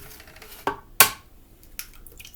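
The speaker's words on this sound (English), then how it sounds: "So let's crack these eggs in here." Eggs are cracked into a bowl for homemade eggnog: two or three sharp, close cracks and taps on the rim, with quieter faint clatter between them.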